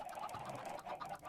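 Chickens in a Minecraft automatic chicken farm cluck in quick, faint, repeated bursts, a soft rhythmic chatter of game fowl with no voices over it.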